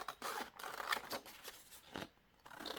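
Scissors snipping around a print on 110 GSM photo paper, a close, quiet series of short crisp cuts in an uneven rhythm with paper rustling between strokes.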